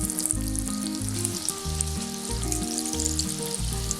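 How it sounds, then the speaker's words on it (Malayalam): Green gram vadas shaped by hand sizzle steadily in hot oil, a loud, continuous crackling hiss that runs throughout over a tonal musical backing. "അപ്പോൾ ഞാനിത് എണ്ണയിലേക്ക് ഇട്ടിട്ട് വറുക്കാൻ പോകണം."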